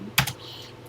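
Keys clacking on a TI-99/4A home computer keyboard: two quick close keystrokes, then a third a moment later, crisp and alone with no talking.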